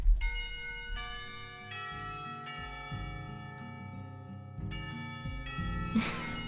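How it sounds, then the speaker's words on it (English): Bell chimes from the visual novel game Katawa Shoujo ring out as the school bell, a sustained run of tolling tones sounding clearly and alone, with a brighter swell near the end. "the bells cry out, ending the torment"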